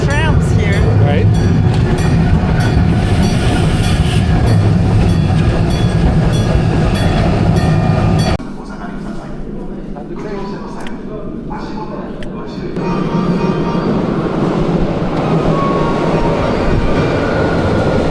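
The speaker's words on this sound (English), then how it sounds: "Some really interesting looking trams here." Trams run past in Japan, a loud rumbling roll with clattering wheels that drops away partway and then builds again, with people talking over it.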